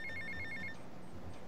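A telephone rings in GTA Vice City, with a rapid electronic bell trill for about half a second before it cuts off, leaving quiet game ambience underneath.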